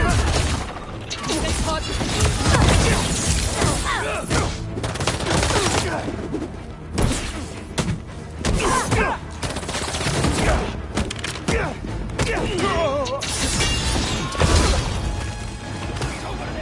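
Dense automatic gunfire in the Marvel's Spider-Man 2 video game, bursts of rapid shots and crashing impacts packed together over several seconds, loud and close with brief pauses between volleys.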